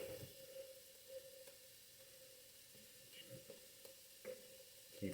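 Shrimp scampi cooking in a pan gives a soft, steady sizzle with occasional faint stirring clicks and scrapes.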